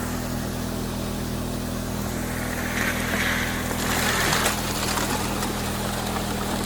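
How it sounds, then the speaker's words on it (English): A WX15 water pump runs outdoors feeding a Goldrat high banker for gold prospecting, a steady droning engine hum under rushing water, with slight surges partway through. "A WX15, isn't it? Yeah. Pump."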